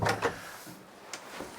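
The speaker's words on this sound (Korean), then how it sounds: "여기 문을 닫아 볼게요" A cabin door on a Dufour 455 sailing yacht swings shut with a couple of short wooden knocks and clicks, close and fairly quiet, followed by softer taps.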